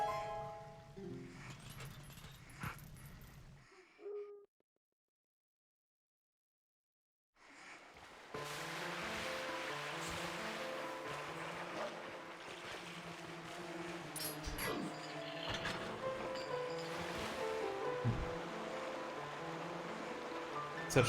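Water running through the sewers in Twilight Princess, a continuous rushing flow under repeating game music after a brief silent gap, steady and fairly loud.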